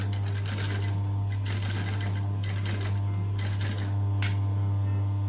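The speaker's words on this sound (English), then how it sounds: "I'm going to just stitch all the way around" A sewing machine stitches around a curved bucket bag with a loud, close mechanical hum and rapid needle clatter, running in bursts with short pauses for readjusting.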